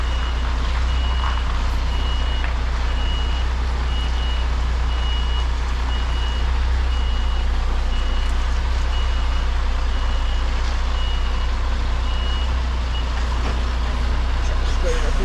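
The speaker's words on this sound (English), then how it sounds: "Just got to do a little bit of a blind reverse to get around this corner." A truck's reversing alarm beeps steadily at a regular rhythm while the vehicle backs blind around a corner, over a loud low engine rumble with constant road and cab noise.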